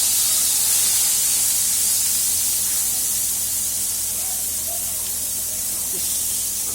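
Onions frying in hot oil with cumin, giving a loud, steady sizzling hiss that runs close and continuous without pause.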